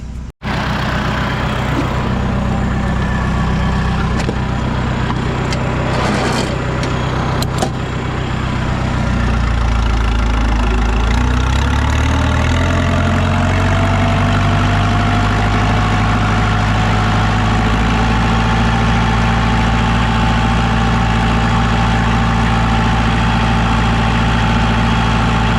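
An IH 574 tractor drilling orchard grass seed runs with a steady, deep engine rumble. It briefly dips and then settles into a louder, sustained drone up close, with no voices.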